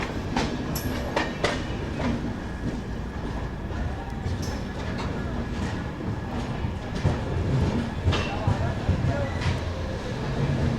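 A passenger train passes on the Malwa Express route near Ludhiana Junction, its steady rumble and roar carrying repeated clickety-clack wheel beats over the rails close by for the whole stretch.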